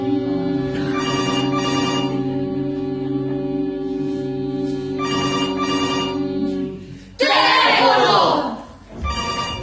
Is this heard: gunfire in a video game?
no